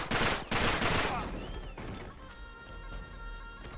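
Video-game gunfire from blind hipfire in Uncharted 3: two dense bursts of shots in the first second, then scattered fainter reports and clatter trailing off.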